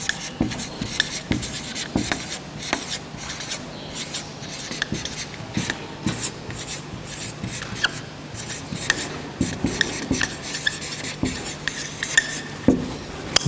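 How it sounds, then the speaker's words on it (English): A marker squeaking and scraping across a classroom whiteboard as a sentence is written, with quick irregular strokes and taps that come in bursts, steady and close for the whole stretch, with no talking. "I'm going to write the sentence on the chalkboard, on the whiteboard, right?"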